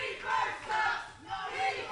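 A wrestling crowd at an old-school match roars and boos in disapproval of a referee's call, a dense wall of voices that swells, dips and swells again.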